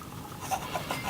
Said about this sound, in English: I'm just going to trim each of the edges off just so we've got a nice straight edge